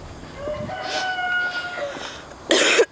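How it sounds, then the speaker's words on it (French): A rooster crows on a green walking path in the morning, one long drawn-out cock-a-doodle-doo call, fairly distant and clear, followed by a brief burst of close noise. "En plus, il y a un coq."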